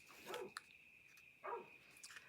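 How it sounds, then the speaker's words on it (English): A dog barks twice at a distance, two soft muffled woofs about a second apart over a faint steady background tone. "Oh, there goes the dog."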